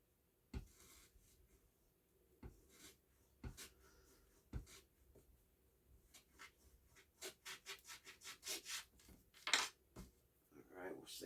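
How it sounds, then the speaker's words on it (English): A wooden model part being hand-sanded, soft scattered rubbing strokes that start sparse and then speed up into a quicker run of scratchy passes, close but quiet. "we'll sand that"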